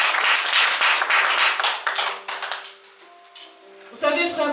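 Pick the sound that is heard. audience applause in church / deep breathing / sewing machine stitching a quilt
audience applause in church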